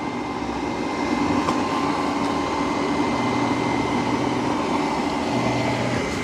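A Roborock Q10 X5 robot vacuum runs a steady, even motor whir while tracing the room's perimeter on its second cleaning pass, with no voices.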